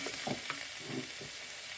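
Onions for lentil soup are stirred in a pan of hot oil, giving a continuous close sizzle with scraping and stirring strokes throughout.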